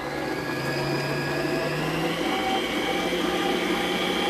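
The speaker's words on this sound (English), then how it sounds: "So now we're going to mix all that together." An electric mixer whirs steadily through cookie batter with eggs, a constant buzzing motor hum with a faint grinding texture, close and unbroken.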